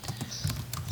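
Quick, close keystrokes clatter on a computer keyboard in a short burst of irregular taps, with no voices.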